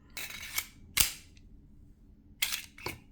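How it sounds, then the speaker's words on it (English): Sharp metallic clicks and clacks come from a Tisas 1911 D10 10mm pistol as its magazine is released and handled, four crisp close snaps spaced apart with quiet gaps between them. "it just shoots magazines out"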